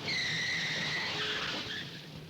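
A car pulls away in a fast jackrabbit start, tires squealing in a steady high skid that runs loud for about two seconds before easing slightly, with engine roar beneath.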